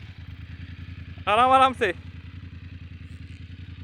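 A motorcycle fitted with a narrow 80-section tyre rides slowly across slippery sand at Madhavpur Beach on the Gujarat coast, its steady engine thrum continuing throughout while a voice briefly speaks over it near the middle.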